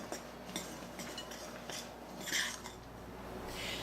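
Almonds, flour, fine yellow cornmeal and kosher salt mixed by hand in a bowl, giving soft, irregular scraping and light clinking that stays close and quiet, with no talk.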